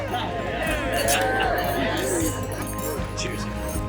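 Glasses clink repeatedly among wedding guests raising a toast at a Tuscan estate reception, bright chinks scattered over a busy hubbub of chatter and crowd voices.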